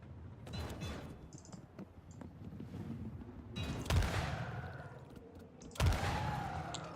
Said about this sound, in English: Two shots to take him down?